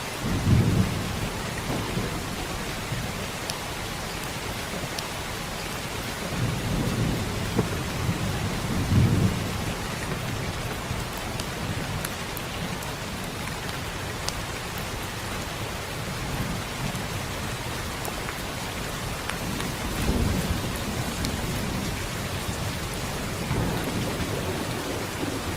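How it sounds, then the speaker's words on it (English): Steady heavy rainfall pours down throughout a thunderstorm, with deep rumbles of thunder rolling in at intervals, loud and continuous with no voices. "the sounds of rain help me"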